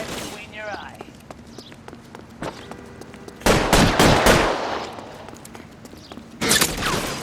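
Gunfire in the video game L.A. Noire, with dense bursts of rapid shots around the middle and again near the end, loud over a background of game ambience and some talk.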